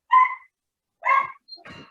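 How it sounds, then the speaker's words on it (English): A dog barks in the background in three separate bursts with short gaps between them, moderately loud, with no talk over it. "Dog's going mad in the background."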